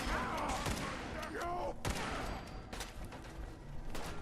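Scattered gunfire in the Fallout New Vegas video game, a string of sharp shots at moderate distance amid battle noise, with voices talking over the exchange.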